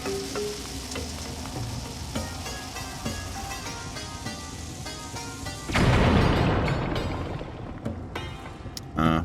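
A bomb fuse hisses and then bursts in The Legend of Zelda: Skyward Sword, with a loud, noisy blast and crackle partway through, layered over game music and a final short thump.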